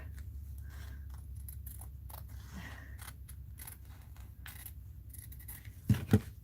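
Old, worn scissors cut paper at a mixed media art journal, producing soft, sparse snips over a low steady hum that end in two louder, sharper close snips.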